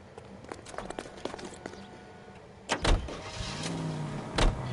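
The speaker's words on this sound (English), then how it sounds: "Get in and drive." Car in the L.A. Noire video game as two detective partners climb in to drive: soft shuffling steps and door thuds, then a low motor rumble building near the end, with no talk.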